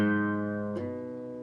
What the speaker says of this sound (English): you're going to pick your A string open